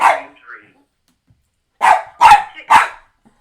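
Daisy the dog barks three times in a quick loud cluster up close, after a softer yip at the start and a short quiet gap.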